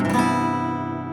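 A single strummed electric guitar chord including the high E string rings out, bright and sustained, slowly fading over about a second.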